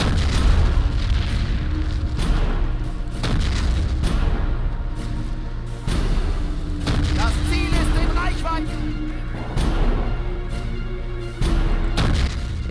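In the Men of War video game, an anti-tank gun fires HE shells in a series of heavy booms spaced a second or two apart, with rumbling battle noise between shots and no clear talk.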